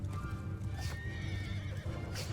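Horses of mounted horse archers in the video game Mount & Blade 2 Bannerlord, heard as a steady rumble of many hooves thundering together with neighs and whinnies rising above, close and loud throughout.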